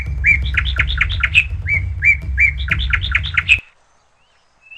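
Birds chirp and tweet in a forest, a dense run of bright, rapid repeated calls for about three and a half seconds that cuts off abruptly into near silence.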